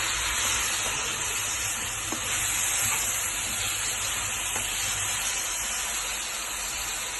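Garlic sizzling in hot butter in a pan, a steady, fairly soft hiss and crackle running throughout with no talking.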